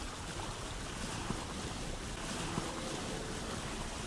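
Raft floating down a river in the video game Vintage Story, a continuous even wash of flowing water and wind-like rush with no distinct events and no talking.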